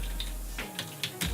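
A few scattered keystrokes on a computer keyboard as a search is typed, sharp clicks spaced irregularly over a low steady hum, close and moderately quiet.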